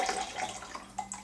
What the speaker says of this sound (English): we're going to add 1 ounce of this fresh squeezed lime juice